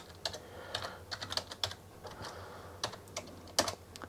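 Keys clack in irregular bursts on an Agon Light Origins edition 8-bit computer keyboard, crisp close taps with short pauses and no voices.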